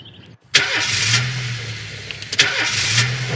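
A car engine in This is Police cranks and catches, then settles into a mid-pitched idle, with a second start-up burst near the end; game sound, no talk.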